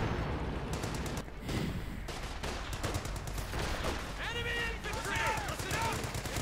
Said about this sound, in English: Anti-tank rifle grenade this time actually made it through.